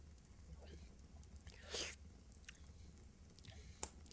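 Someone chews meat close to the ear, with quiet soft wet mouth noises and a brief louder crunchy bite near the middle, faint and intimate with no talking.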